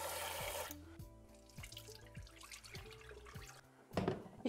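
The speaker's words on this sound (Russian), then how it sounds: "Для этого чашку перловки высыпаю в миску и хорошо мою." Pearl barley being rinsed in a bowl of water, with a wet swishing and sloshing of grains and water running through the whole stretch and a louder splash near the end, no voices.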